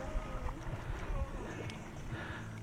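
Boat on a river in the Jayantia Hills of Meghalaya, a low steady engine drone with water wash running throughout, moderately near and faint, with some wind noise on the microphone.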